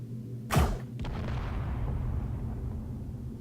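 A ship-mounted weapon in a space game fires one loud, sharp blast, followed by a rumbling tail that fades slowly under a steady background drone.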